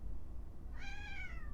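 A pet cat named Sheriff lets out a single drawn-out meow by the door, fairly close and clear over a quiet room hum.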